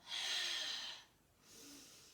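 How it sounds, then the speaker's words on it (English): A close, airy breath cycle, one long audible rush of air followed by a quieter, shorter breath, alone against near silence. "Breathe in, exhale."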